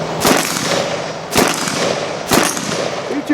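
Three sharp, loud gunshots from an IWI Tavor X95 Micro rifle ring out about a second apart, each with a brief echoing tail.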